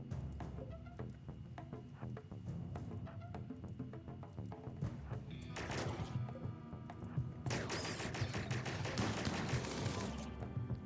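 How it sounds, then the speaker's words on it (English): Gunfire in the colony sim game RimWorld, rapid bursts of small-arms shots and impacts crackling through a busy in-game soundscape, growing denser and louder in two stretches toward the end. "Good shooting there."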